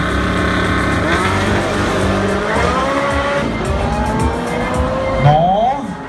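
Porsche race car sprinting flat out at the Powerfest sprint event in Boľkovce, its engine note rising and shifting with a brief tyre squeal near the end, loud and close under a commentator's voice.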